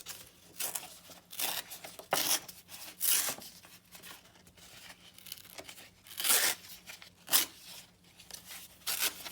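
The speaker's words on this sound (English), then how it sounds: "Tear this. I could cut it, but I'd really rather just tear it." Paper or fabric torn by hand in a series of sharp rips, several strong tears in short bursts with quieter rubbing between, close and alone with no talk.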